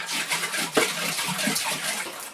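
Water sloshing inside a container more than half full, held by the grab handle of a homemade 12-volt powered exoskeleton suit; a steady close wash of liquid movement with one sharper slosh partway through, and no talking.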